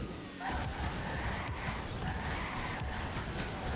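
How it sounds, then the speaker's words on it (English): A horse in a video game dashing around, with rapid galloping hoofbeats over a dense, steady wash of noise, loud and continuous after a brief start. "Look at him just horse dashing around."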